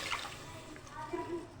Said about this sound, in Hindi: ये मैं इसमें पानी ऐड कर दूँगी